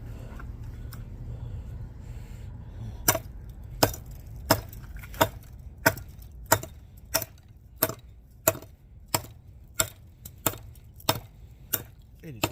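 A DBad Wild West Bowie knife chops into wood in a steady series of about a dozen sharp, loud thwacks, evenly spaced roughly every second, with a low hum underneath.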